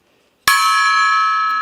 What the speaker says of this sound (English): I was talking about the gong